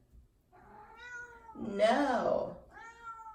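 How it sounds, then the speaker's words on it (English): A pet cat meows near the microphone in a long drawn-out call, with shorter meows before and after, and a woman answers it briefly. "my cat, every time I'm talking, my cat just always has to say something"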